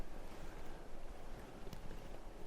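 Wind moving through a Finnish forest at evening, a broad continuous rushing hiss with gentle swells and gusts, steady and fairly soft, with no voices.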